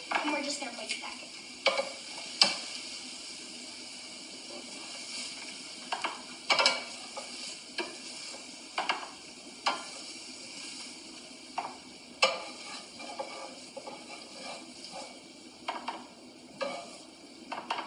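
Spinach cooks in a pan with a steady sizzle throughout, while a utensil stirs it in repeated scraping clinks at irregular intervals.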